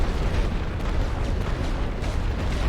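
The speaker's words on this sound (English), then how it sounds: "So let's hit it with artillery." Artillery bombardment on a World War One Western Front battlefield in The Great War: Western Front strategy game, a dense, continuous rumble of overlapping distant explosions with no distinct individual blasts.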